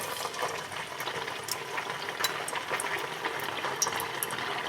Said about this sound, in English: Let's test the oil with a piece of fish.